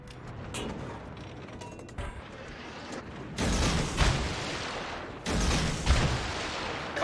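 Naval guns fire on a target in a video game, heavy booming salvos with long rumbling tails arriving in two big bursts over a bed of mechanical clatter and smaller reports, loud and close, with no talking.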